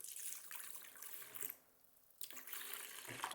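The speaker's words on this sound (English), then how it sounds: "I'm gonna add a little bit of like nutrient water in here" Nutrient water poured into a plant propagation container, a soft continuous trickle and splash that pauses briefly midway and then resumes, close and fairly quiet.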